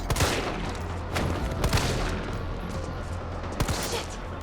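Pistol gunshots fired in the video game Resident Evil 3, a burst of sharp reports at the start followed by several more spaced shots, loud and close over a steady game background.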